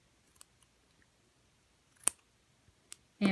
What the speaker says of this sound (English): So you take your scissors and you just grab the strands